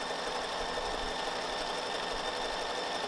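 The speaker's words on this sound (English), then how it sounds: "just going to take a test piece of fabric and go ahead and stitch through one straight line of zigzag" A sewing machine stitches a straight line of zigzag across a fabric test piece, running in a steady, continuous mechanical whir at an even speed throughout, close and alone with no voices.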